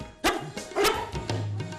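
A dog barks a few times in short, sharp bursts at close range, with brief gaps between the barks and light background noise, during a comedy show.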